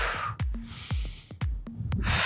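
Sharp, rhythmic breaths during a postnatal Pilates core exercise, four or five quick close-up exhales and snorty inhales in succession, with no talking.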